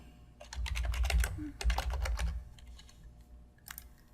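Keys clatter on a computer keyboard as a parameter name is entered, two quick bursts of close, crisp typing separated by a short pause, then a few scattered taps.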